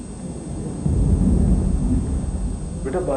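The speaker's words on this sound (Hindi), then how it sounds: "पापा बादल क्यों गरजते हैं?" Thunder rumbles low and heavy through a stormy night, a deep swelling roar that builds and lingers with a faint hiss of rain beneath.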